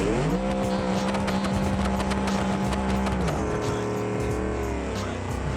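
A car drifting in BeamNG's free roam, all-wheel drive, with a loud sustained engine note and a steady tire squeal that holds, then drops in pitch as the slide eases.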